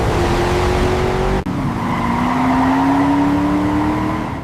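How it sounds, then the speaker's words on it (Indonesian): A Mercedes-AMG GT 63 PRO's V8 biturbo engine accelerating hard, loud and close, with a rising engine note and a brief break as it shifts gear before the pitch climbs again. "The V8 biturbo engine unleashes instant power, a brutal push that slams you back into your seat in an instant."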